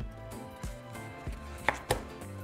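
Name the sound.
knife chopping watermelon into smaller pieces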